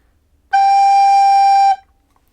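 A lone recorder holds a single low, smooth G note for just over a second, close and clear, with silence before and after.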